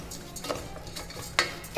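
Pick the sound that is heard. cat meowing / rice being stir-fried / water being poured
rice being stir-fried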